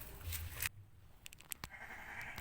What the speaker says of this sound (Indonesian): hewan yang keempat yaitu kambing